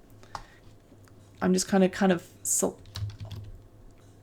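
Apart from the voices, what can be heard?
mouse clicking and computer keyboard typing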